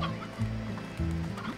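A small chicken-like creature in the Slime Rancher game clucks steadily, a run of close, loud fowl clucks and short gobbling calls with no talking.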